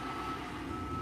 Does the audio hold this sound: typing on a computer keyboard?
no